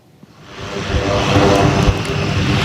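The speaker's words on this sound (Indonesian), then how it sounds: "Angkatan Udara Amerika Serikat mengirimkan pesawat USAF C-130 Hercules dan pesawat pembom B-1 Lancer mendarat" A USAF C-130 Hercules military transport aircraft roars loudly and close, its propeller engine noise swelling from quiet into a steady, heavy drone.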